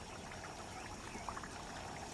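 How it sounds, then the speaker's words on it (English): Floodwater trickles into the dry channels and dusty lagoons of the Okavango on the Kalahari floodplains, a soft, continuous pouring wash with faint bubbling, low and steady throughout. "The water will slowly refill the dry channels and dusty lagoons."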